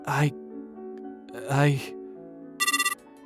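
Phone ringing amid a dubbed anime scene, voices talking and gasping around it, followed by a short rapid electronic ringtone trill of several quick pulses.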